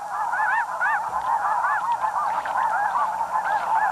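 Geese in a marsh honk over and over in a loud, steady chorus of overlapping nasal calls that runs the whole time with no pause.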